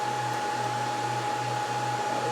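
A loud computer cooling fan blowing a steady, even whoosh with a faint tonal hum, close and unbroken throughout.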